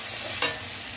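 Cumin powder stirred into beto shak greens frying in a pan, a soft steady sizzle with a single brief scrape of the spoon.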